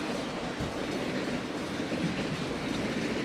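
A train sound effect plays for a livestream hype-train alert: a continuous rumbling rail clatter with rhythmic wheel clacks, steady and fairly loud, with no voices over it.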